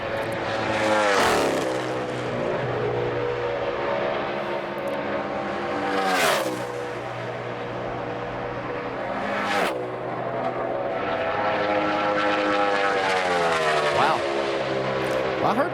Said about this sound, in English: I heard that thing hit the rev limiter getting in turn 1